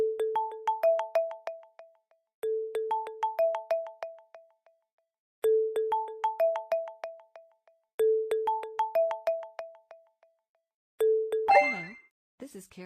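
Phone ringtone in a virtual-reality active shooter training exercise, a melodic chime pattern repeating five times with pauses between, clear and close, the last repeat cut off by a clatter.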